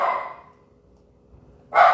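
Amora, a female dog, gives two barks indoors, one at the start and one at the end with near silence between, close and loud.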